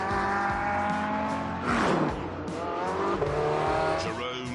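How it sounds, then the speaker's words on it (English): Cars driven hard around a track in a racing video game, engines roaring steadily at high revs with tire squeal and shifting pitch as they corner, loud and close throughout. "Jerome took the cars out to get a sense of how they handled"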